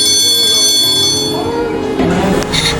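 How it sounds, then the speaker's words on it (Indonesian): A school bell rings for the first break on a bright morning, a steady electric ring sustained over the whole stretch with voices chattering underneath. "bel istirahat pertama berbunyi"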